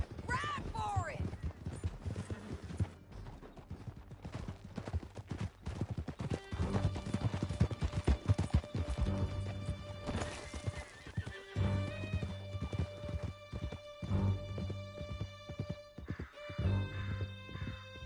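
Horses in Red Dead Redemption 2 gallop hard with rapid, continuous hoofbeats and an occasional whinny, while music plays underneath.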